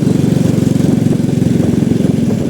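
A small motorcycle engine putters steadily at low speed along a street in Medan, close and loud, with an even rhythmic chug throughout and no voices.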